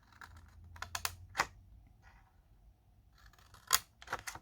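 Scissors snipping straight across a paper strip for a pull-tab dispenser craft, with a few crisp closed-blade cuts in separate bursts and quiet pauses between them, close up and with no one speaking.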